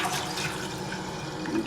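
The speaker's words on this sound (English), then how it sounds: "we're going to fill with 3 quarts of water" Water pours steadily and continuously into a pot as it is filled with three quarts of cold tap water, a close, even rushing flow with no pause and no voices over it.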